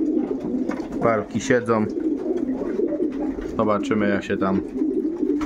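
Paired pigeons in their lofts give clear, close cooing calls in two bursts, with someone speaking Polish around them.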